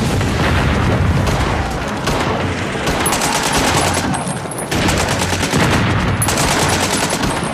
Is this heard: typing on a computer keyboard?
no